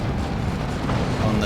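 Plague Marines open fire on a looted tank in the Warhammer 40,000 strategy game Dawn of War 2: a dense, continuous rumble of gunfire and explosions running throughout, with commentary speech mixed in underneath.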